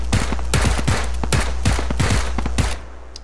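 Rapid gunfire from a PUBG match rings out in a burst of about a dozen sharp, loud shots in quick irregular succession before cutting off.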